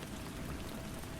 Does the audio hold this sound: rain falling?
yes